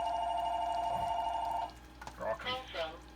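A telephone rings with an incoming call in a home kitchen during cooking: a steady electronic ring for about a second and a half, then it cuts off, followed by soft clatter and faint kitchen noise.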